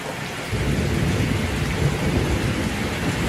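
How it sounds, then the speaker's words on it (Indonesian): Steady rain with rumbling thunder starts abruptly after a brief quiet moment and then holds a loud, dense wash of falling water and low rolling rumble throughout. "Sekarang ada sound effect sih anjing. Gimik apa lagi tiba-tiba ada hujan, ada gerimis"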